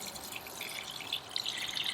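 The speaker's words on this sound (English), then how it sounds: "Bucket is being filled." Water from a campervan's shower runs steadily into a bucket, a soft continuous splashing and trickling with faint dripping, heard alone without voices.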